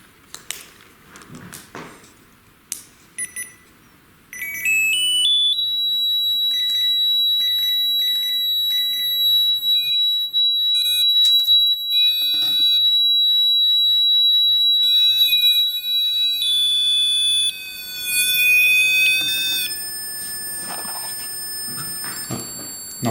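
Steady high-pitched electronic alarm tone from a ghost-hunting device's temperature alert, sounding loud and continuous for many seconds with pitch shifts and intermittent beeps, after a few brief knocks at the start.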